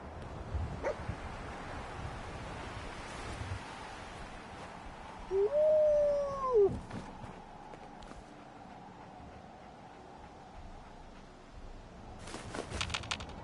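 Dogmeat, the dog companion in Fallout 4, gives a short whimpering whine amid quiet game ambience, with faint footsteps and a few muffled thumps around it.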